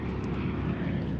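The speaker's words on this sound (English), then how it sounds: "Oh shit, they were not drop supply planes at all. This is a damn dogfight." Propeller-driven C-47 aircraft roar during a war film dogfight scene over Bastogne, a dense, steady engine drone filling the whole moment, loud and unbroken with no voices.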